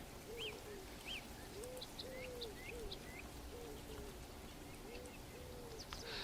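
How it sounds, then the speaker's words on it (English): A bird sings a series of short whistled phrases, faint and distant, with clear rising notes repeating every second or so over a steady hiss of outdoor background noise. "We're going to start with the song of a bird."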